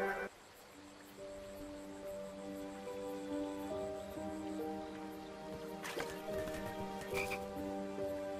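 Frog croaking in the King's Quest video game, a faint steady croaking texture with a sustained tonal drone behind it and a couple of short bursts late on, quiet and ambient.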